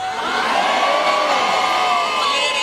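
A church congregation at a prophet's ministry service screams and shouts all at once, a dense, loud, unbroken roar of many voices throughout with no pauses.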